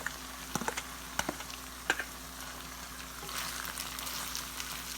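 Rice tipped into hot ghee with cloves sizzles in a pan, a steady soft frying hiss with scattered crackles and a few sharper clicks of grains landing, close and moderately quiet.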